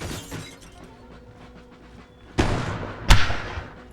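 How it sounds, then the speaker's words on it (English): Glass windows shattering in the Empire: Total War battle game: two sharp, loud crashing breaks in the second half, the last one heaviest, over a low, murky battle ambience. "They're smashing off the windows now."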